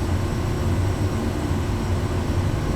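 SWS Kodiak aircraft in MSFS 2024 with its engine at takeoff power, a loud steady low drone holding constant with no breaks.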